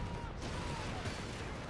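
A World War II battle in Company of Heroes 3, with planes overhead and explosions everywhere, forming a dense, continuous roar of blasts and rumble with no pauses.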